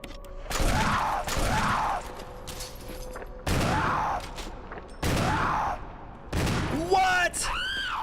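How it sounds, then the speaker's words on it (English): Barry fires his gun in Resident Evil HD Remaster: four or five loud, close booming shots in a slow irregular rhythm, each ringing out, with a creature's cry near the end. "Shoot her again, Barry."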